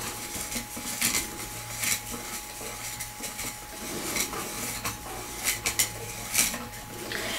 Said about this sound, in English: To banish dirt, mix it counterclockwise.